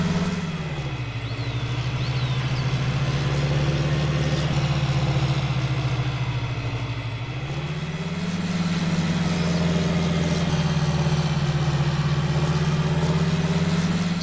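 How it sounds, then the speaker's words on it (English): A hefty tractor in a farming video game labors uphill with a loud, steady low engine drone that dips briefly in pitch and load midway, then rises and holds strained and close. "pretty hefty tractor, and it struggles to get up some of the hills"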